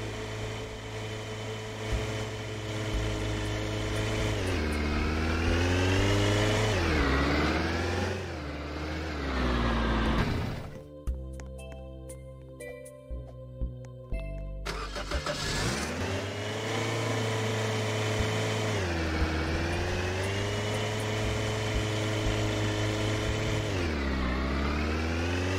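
A vehicle's engine drones steadily while driving in a video game, its pitch rising and falling with speed, breaking off briefly midway for clicking menu noises before the loud motor returns, with no talk.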